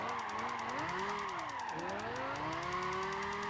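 A Lamborghini engine howls through a drift in Gran Turismo 5, with the revs rising and falling as the car slides, a brief dip partway through, then a steady climb, loud and constant throughout.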